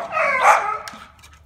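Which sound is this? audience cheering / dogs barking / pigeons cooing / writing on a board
dogs barking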